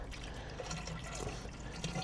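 Dan's Magic lawn feed poured into a container already holding some water, a steady liquid pouring and filling sound running continuously, close by and fairly quiet.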